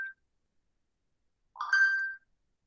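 A short phone message notification tone rings out alone in a quiet classroom, a brief tonal chime with a bright harmonic layer above it, preceded by a tiny clipped blip.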